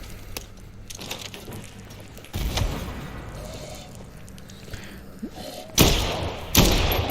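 Grenade blast in the zombie game Dead Island 2, several heavy thuds and bursts over a rumbling game backdrop, with two loud sharp impacts near the end.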